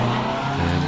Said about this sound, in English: cars will be coming back down from the top paddock to join us here at the bottom